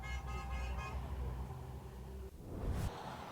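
A car horn toots in a short rhythmic series, several quick honks from passing traffic beside a mid-Michigan auto plant strike line, over a low roadway rumble and a faint passing-vehicle whoosh.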